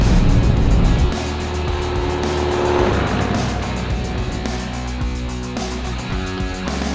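A rally car in the Peking to Paris Motor Challenge drives along a highway, giving a loud, steady engine drone with road and wind roar close up for the whole stretch.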